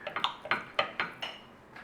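A bladeless butter knife cutting through a cooked lamb chop on a plate, a series of sharp metallic scrapes and clinks against the plate, about eight quick strokes, close and fairly crisp.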